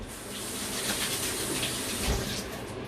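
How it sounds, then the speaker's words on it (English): Tap water runs steadily into a sink while hands are rinsed under it, a close, continuous rushing splash with small shifts as the hands move through the stream, and no voices. "So what I'm doing now is just wash my hands quickly."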